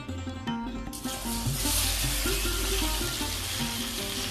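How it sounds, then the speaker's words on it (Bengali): Spiced taro pieces go into hot mustard oil, bursting into a loud, close sizzle that swells after a second and keeps crackling steadily, with a few stirring clatters underneath. "কচুগুলোকে খুব সুন্দরভাবে ভেজে নিতে হবে।"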